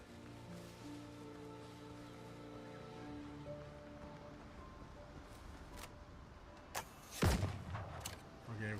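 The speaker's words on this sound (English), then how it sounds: "the gun is like not that effective. Takes a while to shoot too" Gunfire in a video game while sailing near an island: after a steady hum of game music and ambience, a single loud, sharp shot cracks out, trailed by rumbling decay and a couple of fainter bursts.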